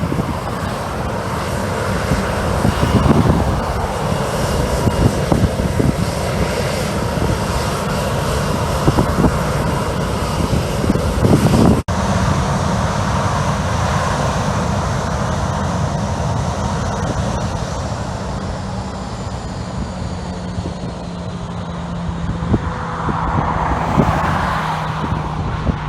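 A Southwest jet departing runway 15 roars steadily from a distance, a broad continuous engine rumble with wind noise on the microphone and no voices.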